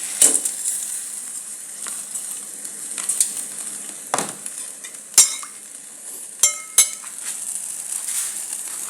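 Instant noodles cooking in a pan with Moringa leaves, a faint steady sizzle running under scattered utensil clinks and a few sharp metallic taps, no talking.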